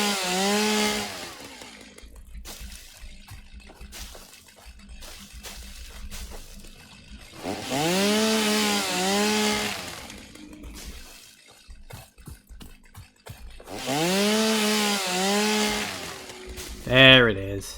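A chainsaw in the factory-building game Satisfactory revs up in three long, rising and falling whines as it cuts through big trees, with quieter gaps between the cuts and someone talking in the background.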